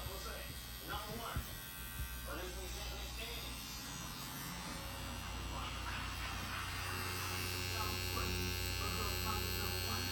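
A tattoo machine drives ink into skin with a steady electric buzz and hum that runs continuously, while people talk over it.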